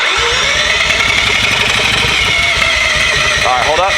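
A rotary engine cranks on its first start attempt, a steady loud mechanical churn with buzzing pulses running the whole time while people talk over it nearby.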